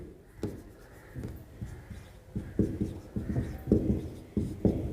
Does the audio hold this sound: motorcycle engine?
no